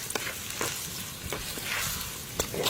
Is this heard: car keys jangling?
no